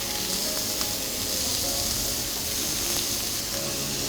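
Beef and cheese skewers sear in a very hot pan, giving a steady, loud, close sizzle and hiss that runs without a break and with no talking.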